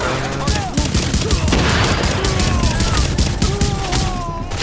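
Rapid bursts of gunfire from The Division fill the clip, with sharp shots cracking repeatedly and densely over a continuous loud backdrop of combat noise.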